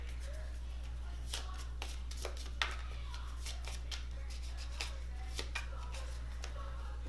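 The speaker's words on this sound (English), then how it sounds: "It's just another quest, so it gets shuffled back into the deck." Cards shuffled back into a deck during a Lords of Hellas board game: soft, quiet riffling and scattered light card taps over a steady low hum, no voices.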